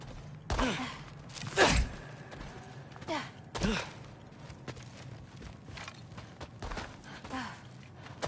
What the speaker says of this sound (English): I think I can hear something breathing near the back of the cellar.